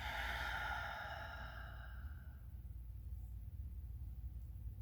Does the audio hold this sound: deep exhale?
yes